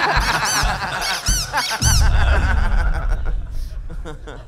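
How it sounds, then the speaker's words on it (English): Squeaky sound effect played three times on a comedy talk show, repeated high, bouncy squeaks in quick bursts mixed with chuckling and laughter, voices talking over and between them. "Reban plays a squeaky sound effect 3 times"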